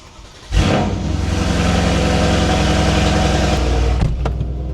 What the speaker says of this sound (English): the most important about this car is the exhaust, okay? So I'm going to turn it on here and we can hear it.